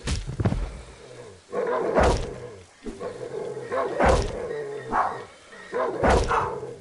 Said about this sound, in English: We got a dog.